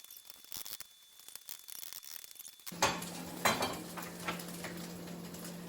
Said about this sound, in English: So we are going to scramble these eggs